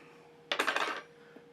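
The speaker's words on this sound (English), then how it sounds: "Add a little ice to the glass." Ice cubes drop into a glass for an old-fashioned cocktail, a quick cluster of bright clinks and rattles lasting about half a second, close and crisp against a quiet room.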